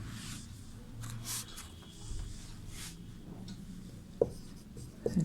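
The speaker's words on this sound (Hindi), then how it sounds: "यहाँ पे सबसे पहले हम लोग नंबर लिखेंगे 1" Chalk or pen scratching numbers onto a board during a Sanskrit lesson, soft continuous strokes at low level with a couple of sharper taps near the end, no talking.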